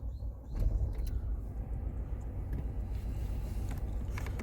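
A car with a parking brake fault is started, its engine catching and settling into a low steady rumble with a few faint clicks on top, close and continuous.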